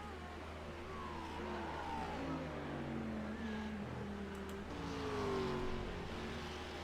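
A GT3 race car working through a chicane at Zolder, a faint distant engine with rising and falling pitch as it brakes and accelerates.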